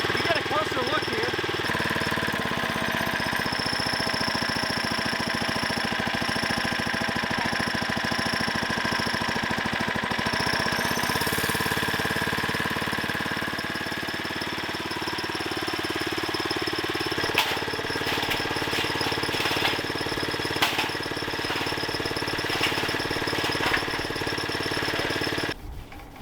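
A small motor drives a homemade trommel with a steady, loud mechanical drone and rattling clatter throughout, close by, while people talk over it.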